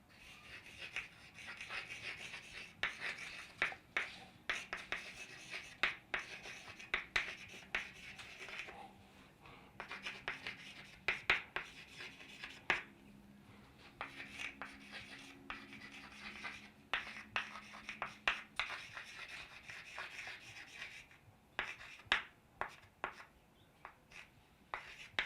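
Pen or chalk writing out explanations during a biology lesson on the chromosomal interpretation of Mendel's laws, heard as faint, close scratching and rubbing strokes in irregular bursts, with no talking.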